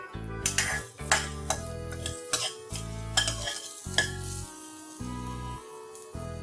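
Chopped garlic stirred in a small amount of oil in a pan, with repeated scraping stir strokes and clinks of a utensil against the pan over a steady low sizzle, close up and without talk.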